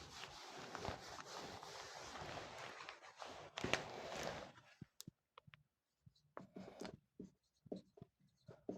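Chalk or marker scratches steadily across a board during a Class 12 physics lesson on charging by friction, first in a dense continuous stretch, then in short separate strokes with pauses, close and fairly quiet.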